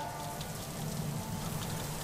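Steady rain falls in the video game Mims, a soft continuous patter of drops on surfaces holding even and fairly quiet throughout, with no voices.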